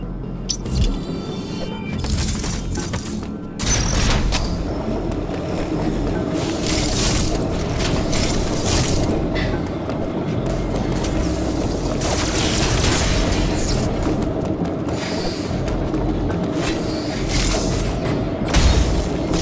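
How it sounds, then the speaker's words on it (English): Power bomb explosions in Metroid Dread, a sustained series of loud, deep booming blasts and rumbling bursts layered with game effects, filling the whole stretch at close range. "Power bombs."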